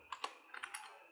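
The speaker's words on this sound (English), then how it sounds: "you're going to press Ctrl and enter" A Ctrl plus Enter shortcut pressed on a computer keyboard: a few quiet, crisp key clicks in quick succession, close up in an otherwise silent room.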